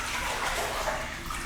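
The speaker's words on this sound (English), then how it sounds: "just dip the noodle under the water and push it side to side" Pool water sloshing and splashing as a foam noodle is pushed underwater and swept side to side during an aquafit exercise, a soft, close swishing wash, fairly quiet and brief.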